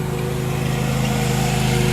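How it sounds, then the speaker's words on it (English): A lawn mower running steadily on a campus lawn, its constant engine drone loud and close throughout with no pause. "Perfect timing for a lawnmower to come by."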